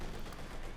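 ZiS-3 field gun firing during a Company of Heroes 2 battle, a dense, sustained burst of gunfire-like noise with no clear gaps, heard alone at moderate level.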